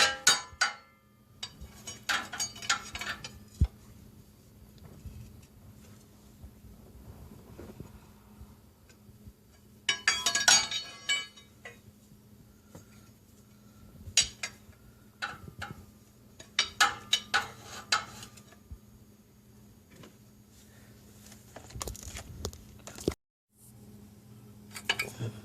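Metal tools clink and tap intermittently while a drive axle seal is pried out of a 2001–2006 Hyundai Elantra, with irregular sharp ticks and small bursts of clatter against a quiet workshop background, no talking.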